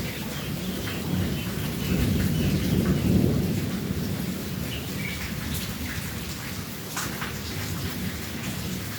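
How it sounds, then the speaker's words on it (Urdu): Thunder rolls low and heavy over steady, dense rain during a strong downpour in Lahore, the rumble swelling then fading beneath the continuous hiss of rainfall. "دیکھیے جی، بادلوں کی آواز آ رہی ہے نا۔"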